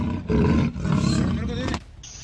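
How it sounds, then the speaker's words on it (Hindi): A caged leopard in a residential neighbourhood of Lakhimpur Kheri, Uttar Pradesh, gives a loud, rough, rumbling roar close by, in a couple of heavy bursts. "तेंदुए की ये दहाड़ डराने वाली, भले ही ये अब पिंजरे में कैद है"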